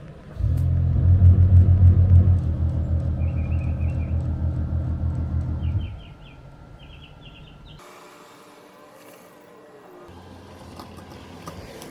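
A Tesla car on its first drive after an accessory power repair gives a loud, steady low rumble for several seconds, then drops to a quieter hum with faint higher tones.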